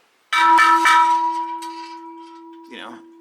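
An improvised signal bell made from a piece of metal at an old California mine, struck a few times in quick succession, ringing loud and close with a long sustained metallic tone that slowly fades.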